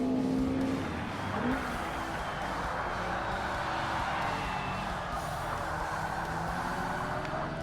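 Lightweight race car from the Ultra-Lights class in Forza Motorsport (2005 Xbox) droning at steady high revs throughout, a continuous loud engine whine with faint shifting tones underneath and no talk.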